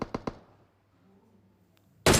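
Gunfire in the mobile battle-royale game PUBG Mobile: three quick sharp shots up front, then a long near-silent gap and one loud final crack at the very end, no talking.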